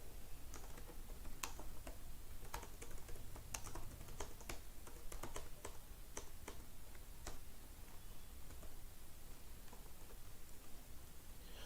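Quiet keystrokes on a computer keyboard during data entry, an irregular run of clicks and taps continuing steadily over faint background hiss.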